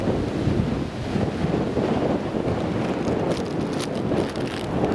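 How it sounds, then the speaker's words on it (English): Strong, steady wind roars and buffets an outdoor microphone at Newcastle International Airport, a continuous loud broadband rush with gusty low rumble and no voices for the full stretch. "That wind is getting really strong."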